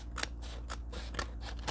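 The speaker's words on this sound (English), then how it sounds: "that is why they made scissors" Scissors snip through paper in a string of crisp, close cuts, about four quick strokes in an uneven rhythm over a low steady hum, with no talking.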